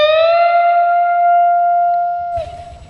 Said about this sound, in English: bend this one 3 frets because the next note is there.